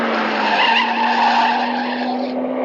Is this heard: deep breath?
no